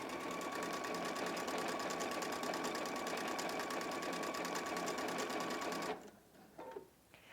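A Husqvarna Viking Epic 2 sewing machine stitching laser pictogram stitches, a fast steady mechanical whir with even rapid needle pulses running continuously, then stopping abruptly and leaving quiet handling sounds.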